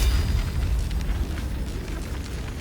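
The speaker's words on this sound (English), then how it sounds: "I wanted you to cast the Sunbeam, didn't I?" A Sunbeam spell cast in Baldur's Gate 3 lets out a loud, sustained booming blast, a deep rumbling burst that holds steady for a few seconds with crackling bright texture above it.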